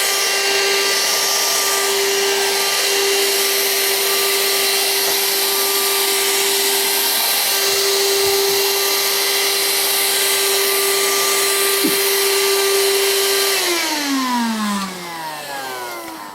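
A vacuum cleaner fitted with a shoe-shaped nozzle runs at a loud steady whine while sucking up dust, its pitch sliding down near the end as the motor winds down.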